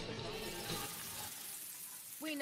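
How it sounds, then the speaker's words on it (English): A juicy, cheesy burger sizzling on a grill, a steady close crackling hiss that eases toward the end before a brief voice cuts in. "We know that juicy, cheesy, grilled to perfection burger sounds amazing"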